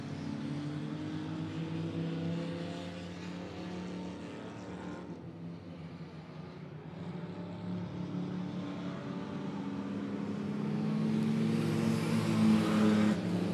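Late model race cars drone steadily around the oval at Monett Motor Speedway, a sustained engine roar at a distance that swells louder toward the end as cars come closer.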